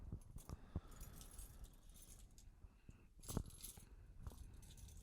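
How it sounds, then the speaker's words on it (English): Keys jingle and clink in a pocket, with scattered metallic jangles and a sharper rattle near the middle, fairly quiet and close, no talking. "I don't know where these keys go to"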